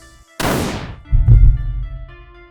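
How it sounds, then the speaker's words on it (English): A single loud, sharp gunshot fired at close range in a tense confrontation with a soldier, followed by a heavy low thud as a body hits the ground, over a sustained musical drone. "He shot the soldier grabbing onto Paladen."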